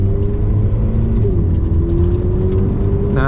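Ferrari F8 Tributo engine warming up while under way: a loud, continuous droning hum and rumble with a faint whine rising slowly in pitch, and no voices.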